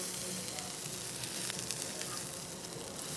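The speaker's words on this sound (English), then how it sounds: "You got to be constantly stirring so you don't burn the rice." Day-old rice stir-fries in oil, butter and soy sauce, a steady loud sizzle with scattered crackles and scraping stirs throughout.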